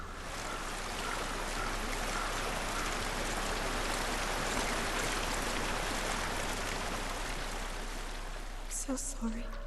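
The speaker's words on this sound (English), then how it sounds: "So we follow the water? Follow it upstream." Steady broadband rush of flowing stream water in the video game Hellblade: Senua's Sacrifice, continuous and fairly close, with a brief clatter near the end.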